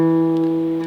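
A guitar note is played on the 2nd fret of the D string, ringing steadily and clearly with rich harmonics for about a second.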